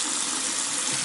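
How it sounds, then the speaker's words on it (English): A sink faucet runs hot water at strong pressure, a steady, even hiss of flowing water with no pauses and no voices. "The sink, again, strictly hot water"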